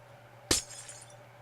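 A single sharp burst of glass shattering in Minecraft, close and bright, followed by a brief tinkling tail over a faint steady hum.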